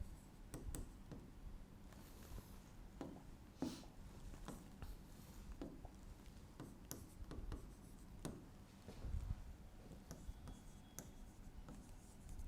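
Chalk or marker scratches and taps on a classroom board, irregular strokes and clicks close by during an English grammar lesson, quiet and intermittent with no voice over them.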